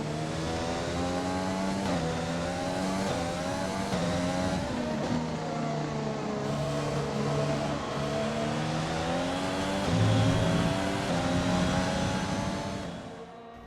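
Race car engines in the F1 2020 video game at the Hungaroring, with steady high-pitched revving and shifting tones held at a loud, even level across the overtake, a brief surge near the end, then fading.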